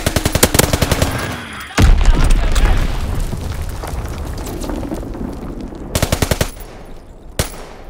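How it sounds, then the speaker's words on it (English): In Call of Duty WWII Team Deathmatch on Sainte Marie Du Mont, a Fritz X bomb drop brings a heavy boom and rumbling blast amid loud bursts of rapid machine-gun fire. "Dropping Fritz X bomb."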